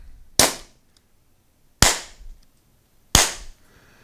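Three sharp, loud shots from an Umarex HDP 50 Compact air pistol fired over a chronograph, spaced over a second apart, each a crisp crack with a short decaying tail and no talk.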